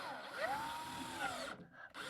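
Power drill driving Fischer screws into wood, one steady whirring run rising in pitch and then holding, cut off abruptly near the end, close and alone.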